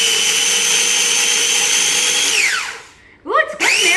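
Crackers are ground finely in a motor-driven electric grinder, making a loud, steady whirring hum that winds down after about two and a half seconds, then starts up again in a short burst.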